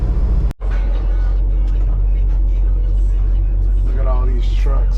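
Heavy road traffic full of trucks on a highway from Pooler, Georgia toward Alabama, heard from inside a vehicle as a constant loud low rumble with engine drone, a brief dropout near the start, and talk over it.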